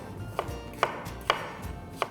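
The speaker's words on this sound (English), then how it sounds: "All the vegetables have to be chopped in a similar manner" A knife chops green capsicum on a cutting board for Schezwan fried rice, four distinct, evenly spaced thuds close by and alone.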